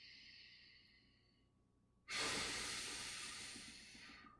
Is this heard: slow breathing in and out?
yes